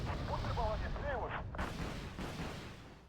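Gunfire in a shooter video game, a dense burst of shots over about a second and a half before thinning out, with a voice talking over the action.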